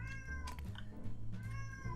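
A pet cat meows twice, clear and fairly close, each call a short rising-falling wail separated by a brief pause, with a low steady hum underneath.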